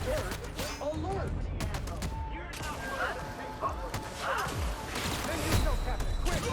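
Bursts of gunfire in The Outer Worlds on PS5 crackle among a busy in-game firefight, with repeated shots and impacts layered under constant background game noise.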